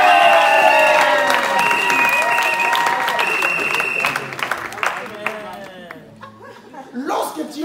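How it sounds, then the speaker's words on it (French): Loud, sustained applause and cheering from a church congregation during a Sunday service, dense clapping with shouts and laughter that gradually thins into scattered claps and voices. "moi je crois que tout le monde pourra acclamer"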